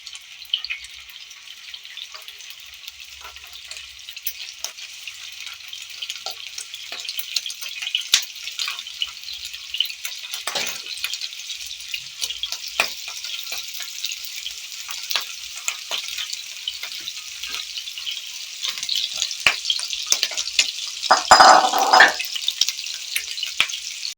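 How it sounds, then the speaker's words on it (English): Homemade meatballs fry in a pan, sizzling in a steady hiss for the whole stretch, with scattered crackles and pops and a brief clatter of utensils near the end, with no talking. "You fry them on each side till they are golden brown."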